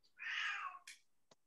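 A house cat gives one clear, drawn-out meow close by, then a short second chirp and a faint tap, in an otherwise quiet room.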